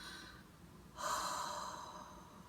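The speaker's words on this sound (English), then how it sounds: "So basically, inhale quickly." A single quick, sharp inhale through the nose, close and fairly quiet, part of a physiological sigh breathing exercise: a short rush of air that holds steady for about a second and a half.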